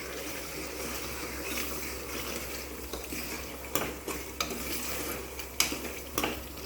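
Chopped tomatoes frying in hot oil with sizzled ginger masala for chicken curry, a soft steady sizzle under quiet stirring, with a few sharp clinks of a spoon against the pan near the end.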